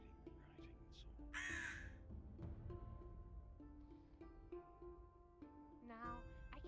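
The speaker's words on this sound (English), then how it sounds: "A very loud crow." A loud crow caws in harsh, raspy bursts among a stretch of talking voices, with a strong call standing out briefly near the start and another toward the end.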